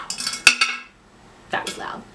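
Three-liter glass jars with clip lids clink and knock together at close range: a sharp ringing clink, a few smaller taps, then another rattling bump after a pause.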